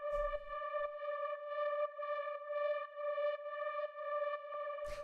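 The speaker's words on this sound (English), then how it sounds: "Next sound we have here is the drone" An FM pad synth drone holds a single D note, a steady bright tone with soft rhythmic pulses repeating about twice a second, loud and alone, cut off abruptly at the end.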